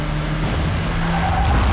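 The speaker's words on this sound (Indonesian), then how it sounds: "ia menembak si supir dan mobil mereka pun terbalik" A car in an action film scene skids as it overturns, loud continuous tire noise and engine roar with a rising squeal near the end, dense and close, with no voices.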